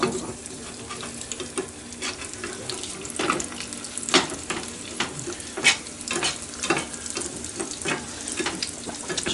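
Eggs frying in a pan, a steady sizzle and crackle with occasional louder spatters and scraping, continuous and close.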